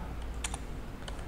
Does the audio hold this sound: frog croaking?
no